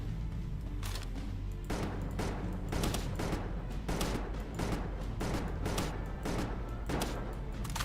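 Rapid bursts of gunfire from a video game set in Palworld's lava region, repeated volleys crackling steadily across the whole stretch with dense low rumble underneath and no talking.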